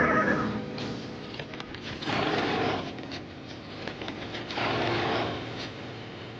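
A horse harnessed to a wooden cart whinnies in a long wavering call amid a steady rumbling, clattering backdrop of cart movement, with a second rise in noise toward the end and no talking.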